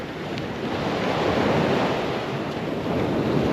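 Sea surf at Galapos beach on Portugal's Costa Azul near Setúbal and Sesimbra, a steady broadband wash of breaking waves with some wind buffeting the microphone, continuous and fairly loud, no voices.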